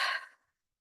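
A single deep exhale during a guided meditation, a soft breathy rush that fades out within half a second, heard alone and close with no talking.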